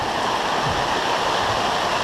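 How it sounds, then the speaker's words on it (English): Heavy rain pouring down onto a newly built roof, a loud dense constant roar of water with no breaks and no talking. "it's really loud and noisy. It's coming down. It's pouring"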